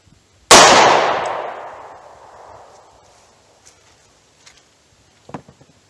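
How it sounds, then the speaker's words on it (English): A Buffalo Bore lead-free .38 Special standard pressure round fired into wood gives a single sharp, loud crack that rings and decays over about two seconds, followed by a few faint clicks and taps. "I'm going to hit the wood on the top with the standard pressure"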